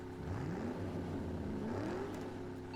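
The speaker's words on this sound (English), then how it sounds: "The tugboats lightly draw against the ship, testing for resistance." Tugboat engines straining at full power to pull a massive ship, a steady loud low drone with a slowly rising and falling pitch, continuous and close, with no talking.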